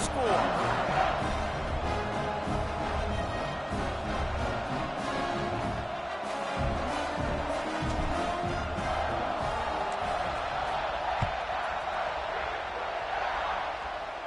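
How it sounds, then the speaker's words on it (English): Stadium crowd in the NCAA 26 college football video game, buzzing after a score: a continuous roar and murmur with small swells, heard under a commentator's steady play-by-play. "this crowd is buzzing after that last score"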